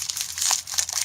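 Plastic wrapper of a Reese's peanut butter egg crinkling up close, a steady second of bright rustling with a slightly louder crunch at the midpoint and no voices.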